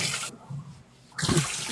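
Water from a tap splashes as someone rinses their hands, a close, gushing flow that cuts out briefly and then starts again, with no talking.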